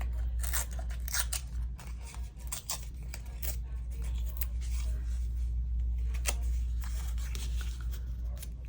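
Paper tags being torn along their bottom edges for embossed crafting, a run of sharp, close rips and crinkles in irregular bursts over a low steady hum, with no talking.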